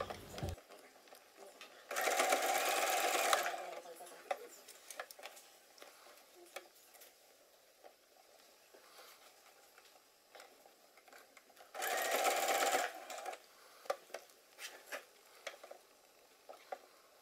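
A sewing machine stitches a seam 1 cm from the edge all around a puffer jacket sleeve, with two loud bursts of a few seconds each separated by a long stretch of quiet handling and small clicks.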